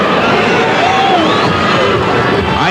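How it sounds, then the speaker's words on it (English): Wrestling crowd in an arena cheering steadily during a steel cage match between Randy Savage and Jerry Lawler, a dense, loud wall of voices and shouts with no break. "Crowd getting behind Lawler, trying to get him steamed up."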